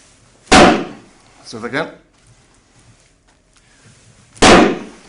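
An axe strikes a stab-proof cell extraction vest twice, each a sharp loud close thud about four seconds apart, with a brief spoken remark between the blows.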